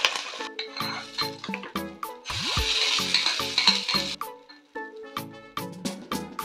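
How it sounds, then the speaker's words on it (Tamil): Mustard seed and dal tempering with curry leaves is poured into coconut chutney and stirred, giving a brief hissing sizzle amid repeated clinks and scrapes of a spoon against the bowl, close and moderately loud. "இப்போ இதை தாளிப்பு இதில் கொட்டி கலந்து விட்டுடலாம்."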